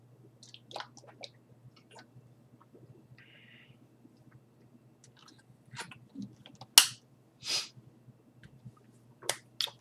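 Someone drinks water in a quiet room, with soft lip and glass clicks followed by a few distinct, close gulps and swallows.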